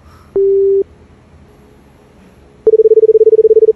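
On an unanswered telephone call, a single steady tone sounds briefly, then after a pause a loud run of rapid, evenly spaced busy-signal beeps follows.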